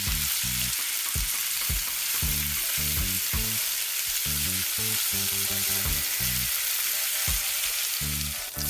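Carrots and other vegetables sizzling steadily in a hot pan, loud and close, with a rhythmic series of low scraping stirring strokes throughout and no voices.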